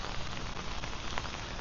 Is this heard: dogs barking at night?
no